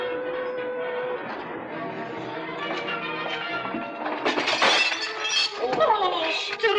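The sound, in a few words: mirror shattering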